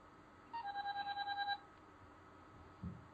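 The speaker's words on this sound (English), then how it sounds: "Everyone's phone's going off." Several phones ringing during a podcast recording, a rapid electronic trill pulsing for about a second, fairly faint and near, followed by a brief low thump.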